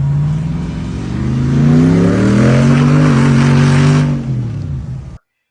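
Heavily modified Jeep with a worked 5.7 Hemi V8 revving hard, a loud, close engine note climbing and holding high before dropping off and cutting out.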